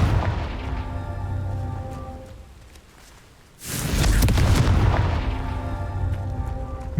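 A Confringo blast spell goes off in the Hogwarts Legacy video game: a sudden loud, booming burst erupts after a brief lull and rolls on under steady game music.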